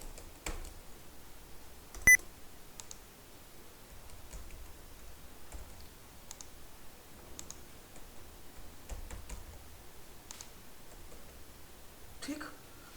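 Computer keyboard keys are tapped while entering numbers into an Excel spreadsheet, producing sparse, quiet clicks spread over a faint room background, with one sharper louder click standing out early.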